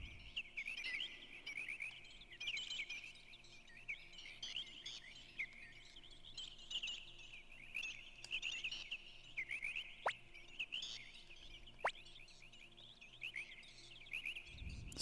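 Baby bird chirping in the video game Suikoden 2, a continuous high trilling twitter with repeated short calls, soft and steady over a quiet backdrop with a couple of sharp clicks.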